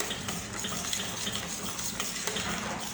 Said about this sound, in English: I stir it until the sugar is all melted, and I just add it to my porridge, and I continue to mix